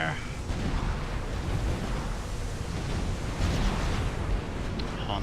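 Naval units in the strategy game Supreme Commander open fire, producing a dense, continuous wash of booming explosions and artillery rumble at steady loudness, with a slight surge in the latter half.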